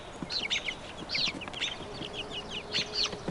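Young chicks, newly feathered and perched close by, let out a series of quick high peeps and soft clucks in short irregular bursts, fairly near and moderately loud with no talking.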